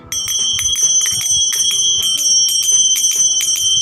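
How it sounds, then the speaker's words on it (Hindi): Manjira, small brass hand cymbals played at bhajans, struck together repeatedly in a quick, steady rhythm, each strike giving a bright, loud, ringing metallic chime that overlaps the next. "ये देखिए, ये है मंजीरा। ये जब हम लोग भजन करते हैं"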